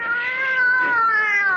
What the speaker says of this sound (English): What's wrong with that cat?